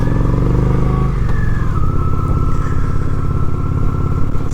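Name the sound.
Honda Shadow 750 ACE motorcycle riding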